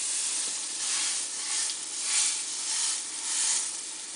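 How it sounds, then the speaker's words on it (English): A pork rib roast browns in a pressure cooker, giving off a steady close sizzle with a bright hiss that swells and fades gently in waves, and no voices. "So I'm going to go ahead and put this in and we're going to just brown it."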